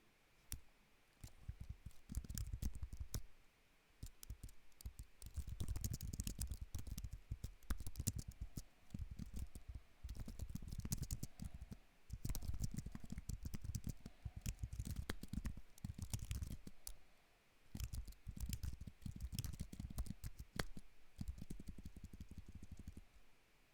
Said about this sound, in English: I am using a good old Apple Magic keyboard with a tiny little microphone hanging on top of it.